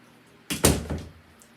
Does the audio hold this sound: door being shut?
yes